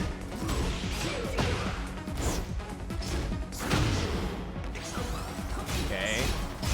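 A wall break smash in the fighting game Tekken 8, heavy crashing impacts and thuds amid fight effects, loud and busy under excited commentary.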